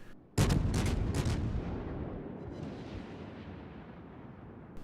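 A heavy naval gun salvo from a Nurnberg cruiser in World of Warships, several rapid booming shots close together, then a long rumbling decay fading over a few seconds.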